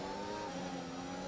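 A race car in a racing video game, heard from the cockpit, spins its wheels while accelerating, giving a faint, steady, strained engine whine with no talking.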